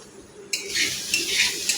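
Carrot stir-fry being stirred in a pan, with a spatula scraping and clinking against the metal in a few quick strokes over a soft sizzle, close and moderately loud.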